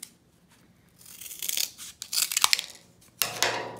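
Scissors cut a strip for a Jeep Wrangler JL tail light guard in several close, crisp snips with brief pauses, separated by quiet handling noise.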